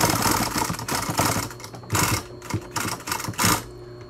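A sewing machine stitches a homemade fabric mask in loud, close bursts of rapid needle chatter, starting and stopping several times with short pauses between runs.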